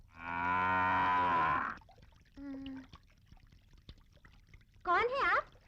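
Grazing cattle give a long, loud low moo, then a shorter call and a final wavering bellow, separated by quiet stretches.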